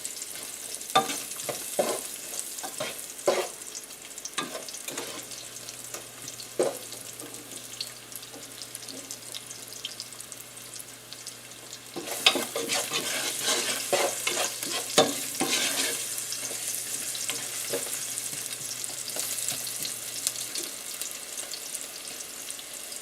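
Ingredients for Italian escarole and beans sizzle softly in a pan, with faint stirring scrapes and the occasional rattle of running water over a steady low frying hiss.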